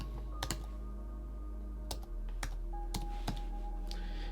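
Keys tapped on a computer keyboard during website editing in Elementor: scattered clicks come in small bursts over a low steady hum, close and fairly quiet, with no talking.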